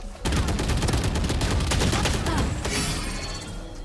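Rapid gunfire in the Valorant video game, a dense, loud burst of shots and sharp impacts filling the whole stretch without a break.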